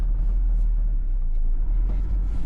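Van engine rumbling steadily while driving, a loud continuous low drone with road noise and no breaks.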